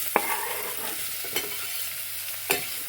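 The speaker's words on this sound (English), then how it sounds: "And that is sort of frying just to get a tiny bit of color, slightly caramelizing." Vegetables fry in a pan for lentil soup under a soft, continuous sizzle, broken by three sharp clacks of stirring at irregular intervals.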